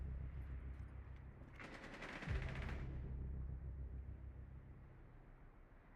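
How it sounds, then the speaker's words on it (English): A single shotgun blast from Rainbow Six Siege gameplay, a loud broadband burst lasting under a second and rising above a steady low background rumble. "That is a shotgun, by the way."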